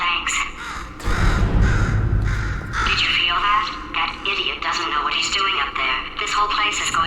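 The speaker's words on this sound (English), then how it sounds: "Could you, murder this bird for me?" Crow cawing in Portal 2, harsh repeated caws rising over a low rumbling game backdrop, with a voice talking through much of it.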